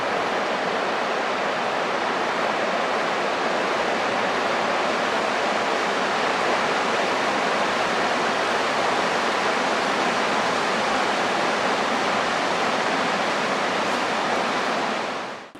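River flowing past a sandy beach near a riverside campsite in Idaho: a steady, broadband rush of moving water, constant and fairly loud, with no breaks and nothing else heard over it.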